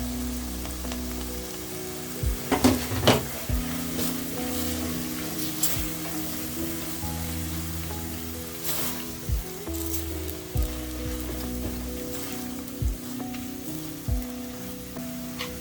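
Capsicum and coriander stems sizzle in a hot pan with tomatoes and Royco for butter chicken, a steady close frying hiss broken by occasional clinks and scrapes of stirring, with no voices.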